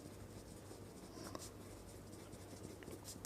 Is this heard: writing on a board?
yes